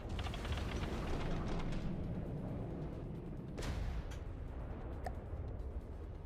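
Weapons firing in the game From The Depths, with a dense, rumbling barrage of booms that fades slightly, then a sharp loud blast near the middle and a couple of smaller reports after it.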